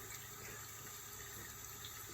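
A sink tap runs cold water to rinse a copper penny, a faint, steady hiss of flowing water lasting throughout without any voices.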